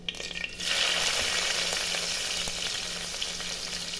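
Mustard seeds and fenugreek hit hot oil in a pan for pickle, bursting into a loud, continuous close sizzle with scattered pops after a brief quiet start.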